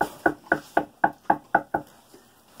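Seven firm knocks on a wooden house door at dusk, evenly spaced and close, followed by a faint softer tap and quiet.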